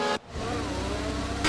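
An F1 car in F1 24 drops off sharply, then holds a steady, limited whine as it rolls down the pit lane, a short, fairly loud engine tone before revving up again at the end.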